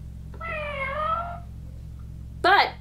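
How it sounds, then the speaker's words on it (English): A small battery-powered toy cat with a bandaged paw gives a long electronic meow, then a pause and a short, louder second meow, close by over a low steady hum. "But we did end up with this little cat, which apparently comes with a pre-injured paw. And I have foolishly put batteries in it."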